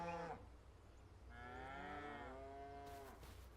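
Highland cows in a field, a short moo cut off at the start and then a second long, full moo, both fairly close, with quiet ambient noise in between.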